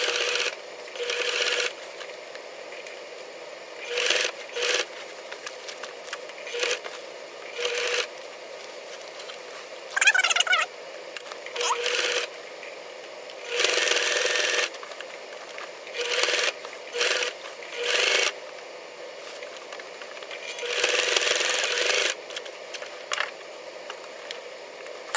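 Sewing machine back stitching along the outside seam of a pair of jeans, stitch length set to about 3, running in repeated short bursts with pauses between them and no talk.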